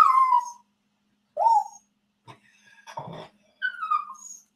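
A dog whimpers indoors in several distinct bursts, high plaintive whines separated by short silences, with a rustle of movement in the middle.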